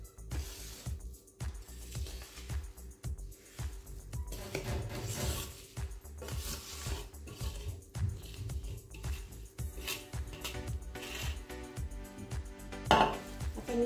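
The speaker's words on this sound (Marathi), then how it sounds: "आता आपण हे कैरीच्या फोडीत मिक्स करू" Spice masala soaked in oil being mixed into raw mango pieces for a traditional Marathi pickle in a large vessel, giving a continuous close, soft scraping and clacking of stirring.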